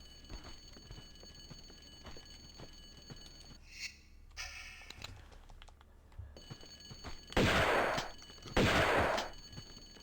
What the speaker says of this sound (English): But is that just a shotgun?